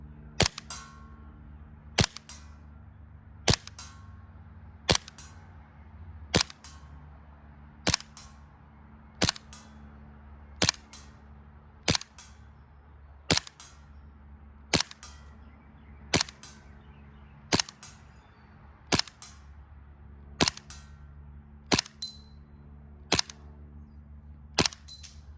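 Airsoft pistol shots from a USHOT TP22 sidearm, a steady series of about sixteen sharp single cracks roughly every one and a half seconds, each followed by a faint snap, over a low constant background hum.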